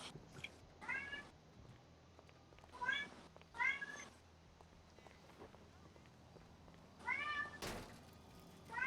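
A cat meows repeatedly, about five drawn-out, rising-and-falling calls spread irregularly across the span, clear and fairly close against low background noise with a sharp thump near the end.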